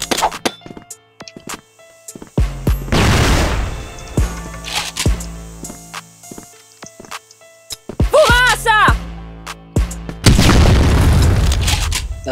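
Loud booming shots from a CheyTac sniper rifle in the game CrossFire and metallic clangs ring out repeatedly in bursts, mixed with game effects and occasional voices.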